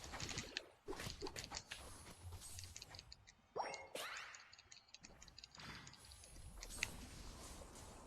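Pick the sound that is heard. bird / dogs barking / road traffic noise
bird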